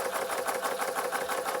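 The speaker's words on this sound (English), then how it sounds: "It's called a uniflow engine." A Bing 130/383 uniflow toy steam engine runs after repairs, giving a fast even chuffing and mechanical whirr, steady and close with no pauses.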